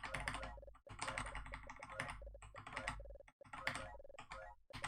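Rapid keyboard typing on a PC while playing Resident Evil 3: Nemesis, a dense run of close, crisp key clicks in quick bursts with a couple of brief pauses, no talking.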